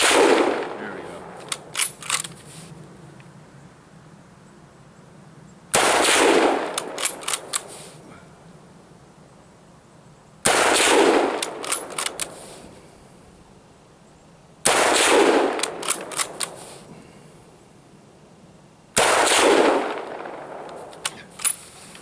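A Mosin Nagant M91/30 rifle chambered in 7.62x54R fires at a range, with each shot aimed at an exploding tannerite target. Five sharp, loud reports come several seconds apart, and each one is followed by a rumbling echo tail.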